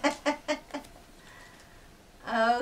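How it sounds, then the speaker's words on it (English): A chicken gives four quick, close clucks in a row, falls quiet, then lets out a longer, drawn-out cackling call. "Chicken."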